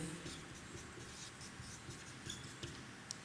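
Chalk or marker writing on a classroom board during a science lecture, a quiet continuous scratching with short taps and strokes, fairly close, with no talking.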